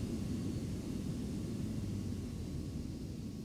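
Boeing 737 airliner engines at an airport in the AirportSim video game, a steady loud low roar and rumble with broadband hiss, continuous and unvarying throughout.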